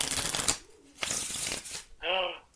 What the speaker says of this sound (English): I can do the American shuffle. Like, you know, when you play poker in casinos and stuff.